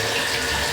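Water pours steadily from a bottle, standing in for whiskey, as a broad continuous splashing gush that is close and fairly loud throughout.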